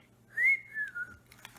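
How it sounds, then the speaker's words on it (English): A person whistling a short, clear tone that rises then slides gently downward in a couple of breathy pulses, close and alone against a quiet room. "Can I whistle?"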